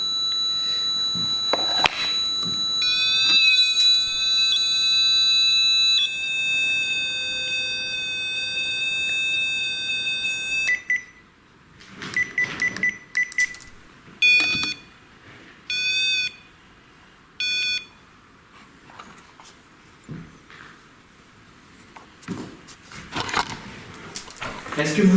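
A ghost-hunting device's temperature alert sounds as a loud sustained electronic tone with layered beeps, cuts out, then returns as short repeated chirping bursts, with people talking quietly between and around them.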